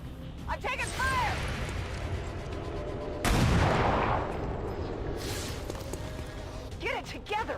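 Gunfire in the video game XCOM 2: War of the Chosen, a burst of loud crashing shots with a heavy blast partway through over busy game noise, while a voice calls out in the gaps.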